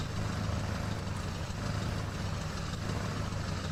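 Steady low engine drone of a Limes L400 pickup truck, an F350, in the video game SnowRunner, held at a light throttle with no sharp revs, continuous and even.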